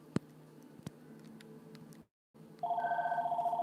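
A phone rings in a quiet room: scattered ticks and clicks, a brief dropout, then a steady, pulsing electronic ring tone starts loud and close and keeps going to the end.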